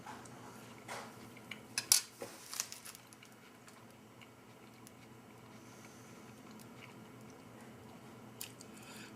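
Spoon scraping and scooping Gulf War-era MRE beef teriyaki with vegetables from its pouch, with a few clinks and soft chewing sounds clustered early, then quiet low room noise.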